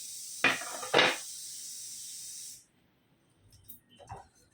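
Fennel seeds, coconut, cumin and coriander dry-roasting in a hot frying pan, a steady broad sizzle-hiss with two sharper bursts as ingredients drop in, cutting off midway, then faint scraping stirs.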